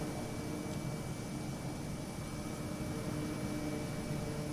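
F-18 jet flying slow in landing configuration with flaps fully extended in a flight game, a steady broadband engine roar and hiss holding even throughout, no talk.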